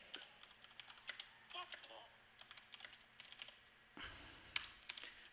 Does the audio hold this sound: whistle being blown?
no